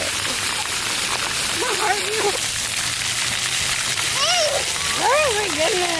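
Water splashes steadily at a children's play date, a continuous wash of spatter and slosh, while voices talk and exclaim over it throughout.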